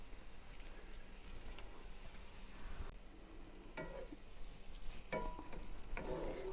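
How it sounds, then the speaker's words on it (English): Hamburger meat seasoned with adobo and Himalayan salt fries in a pan with a steady, close sizzle, joined by occasional scraping and stirring clatters. "almost done with this hamburger meat. Got to cook it for a little bit more."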